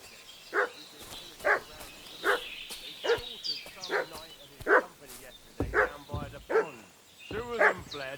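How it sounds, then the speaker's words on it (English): Dog barking in the medieval game Kingdom Come Deliverance 2, a run of about a dozen evenly spaced, fairly close yaps and woofs that continue steadily, bunching slightly toward the end. "What's that dog making such a fuss about?"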